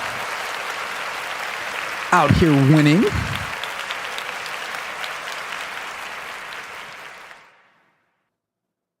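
Continuous applause from a crowd, with a brief spoken phrase cutting through near the start before the clapping fades out.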